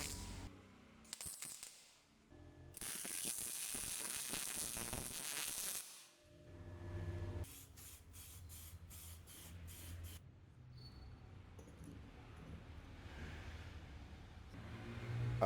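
Welding on the frame of a homemade go-kart comes as intermittent bursts of harsh crackling hiss, some long and some short and stuttering, separated by brief pauses over a low mechanical hum.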